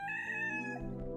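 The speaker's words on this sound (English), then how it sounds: "Music changes back to the daytime, you get a little rooster in there." A rooster crows at daybreak in the Roblox game Miner's Haven, one drawn-out cock-a-doodle-doo riding over game music, clear and close.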